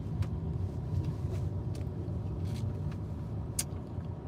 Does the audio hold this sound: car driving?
yes